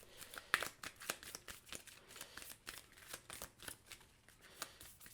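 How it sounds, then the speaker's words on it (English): Sleeved playing cards are shuffled during a Marvel United board game, giving soft riffling and sliding rustles in quick bursts that are quiet and close, with no voices. "I love how they can just glide while shuffling with these sleeves on"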